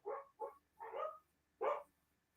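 Several dogs bark in short, loud bursts with a few quick yips in between, close by with no other sound around them.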